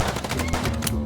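Rapid automatic gunfire in the video game Chicken Police, a dense, loud burst of shots lasting about a second with no pause.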